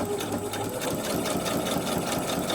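Sewing machine stitching a quilt block, running steadily and loud for the whole stretch with an even, continuous motor whir and rapid needle rhythm.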